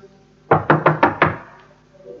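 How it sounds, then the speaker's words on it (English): Five quick, firm knocks on a castle door, evenly spaced and close, followed by quiet. "Slowly, he walked up to the door and knocked."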